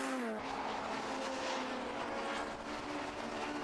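A Class B Honda race car laps the 1.2-mile Brands Hatch Indy circuit, its engine roaring loud and steady with a rising pitch under load as it passes. Faint tyre noise sits under the roar, and no one talks.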